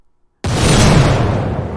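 A sampled shotgun blast hits suddenly after a brief silence, a loud deep boom with a rough rumbling tail that fades slowly over more than a second.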